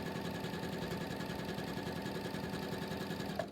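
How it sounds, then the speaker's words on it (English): A sewing machine runs steadily, stitching along the raw edge of a pillowcase, with a continuous low motor hum and rapid needle rhythm throughout, fairly quiet and without talk. "So now she's sewing between the line of stitching she made previously and the raw edge of the pillowcase."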